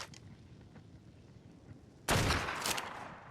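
A burst of rapid gunfire in the video game Ark: Survival Ascended, on a snowy Ragnarok map, suddenly cuts in loud after a quiet stretch of ambient game sound and continues as sustained shooting.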